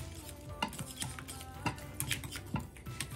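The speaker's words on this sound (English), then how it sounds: "Let's get that whisked into our cream cheese" Butter being whisked into cream cheese in a bowl gives rhythmic scraping and clicking of the whisk against the bowl, repeated strokes close by over a soft background hiss.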